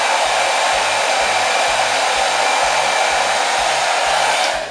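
A hair dryer blow drying hair runs at a loud, steady whoosh for several seconds, its constant airflow hiss overlaid with a faint rhythmic low thumping, then eases slightly at the end, with no voices.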